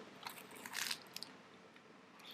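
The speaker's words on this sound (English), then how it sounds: "You can hear that crunch when you bite into it" Close, crisp crunch of teeth biting into a pizza's crust, a short burst of crackling snaps followed by a few softer crackles in a quiet room.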